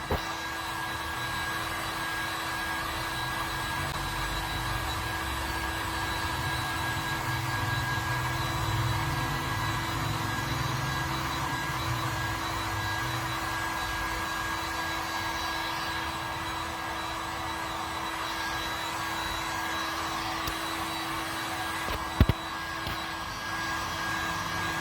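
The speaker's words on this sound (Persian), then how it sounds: "خشک‌کن زدیم به همراه کیلر و حالا خشکش میکنیم" A dryer blows steadily on a car's scratch-repaired paint, a continuous close whooshing hum with a high whine that holds level throughout, broken by one brief sharp click near the end.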